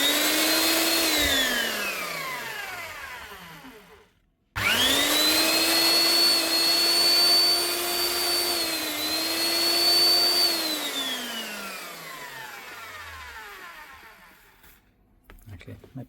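A 1700 watt Eibenstock power tool whines up to speed, runs loud and steady, cuts out abruptly and restarts, then winds down slowly to a stop, its motor pitch sliding as it slows.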